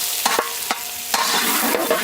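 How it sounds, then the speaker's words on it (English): Onions sauteing in a massive pot over an outdoor fire, a steady loud sizzle broken by several scraping strokes of a large stirring utensil, with no voices. "They're preparing all the ingredients and they're sauteing the onions."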